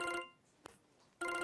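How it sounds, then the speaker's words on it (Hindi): A phone rings with an incoming call, a short electronic ringtone burst, then a gap with a faint click, then the ringing resumes, close and clear with no talk. "तुम्हारे फोन पे कॉल आ रही है"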